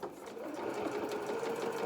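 Close and steady, a sewing machine hums through a brief run of stitches closing a gap in a small playsuit seam, its rapid needle rhythm continuous from start to finish.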